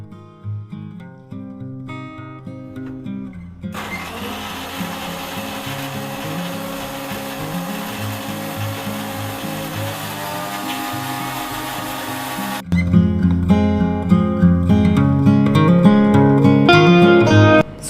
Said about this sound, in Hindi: तो इसको पीस लूँगी मैं मिक्सी में सबसे पहले।